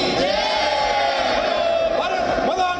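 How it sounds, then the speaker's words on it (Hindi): A dense crowd of Indian diaspora in Dubai chants and shouts continuously at rally volume, forming a loud unbroken roar of many voices. "हाथों में तिरंगा लिए ये प्रवासी भारतीय भारत माता की जय के नारे लगा रहे थे"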